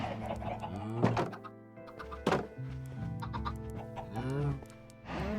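Chickens cluck repeatedly in Minecraft, blocky in-game fowl calls sounding close and clear, mixed with thunking footsteps and block sounds, with no talk over them.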